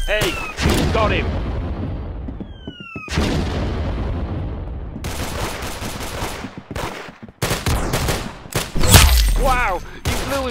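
Gunshots and explosive booms in the video game Arsenal, a series of loud shots in irregular bursts with sharp sweeping effects, and voices speaking between them.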